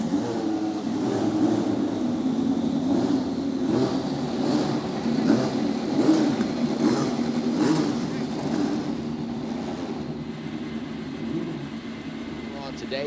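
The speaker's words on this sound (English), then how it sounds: "drivers, start your engines" Several race car engines at Circuit of the Americas fire up and rev together in a steady, dense roar, with people talking over the engine noise throughout.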